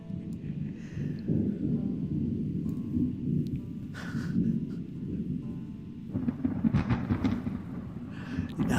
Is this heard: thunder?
yes